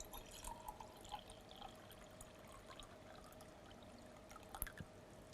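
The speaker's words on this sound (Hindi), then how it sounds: "सबसे पहले पानी को हम बीकर में डाल लेते हैं" Water pours into a glass beaker for a classroom heat experiment, a faint, steady trickle lasting several seconds, heard alone and quiet.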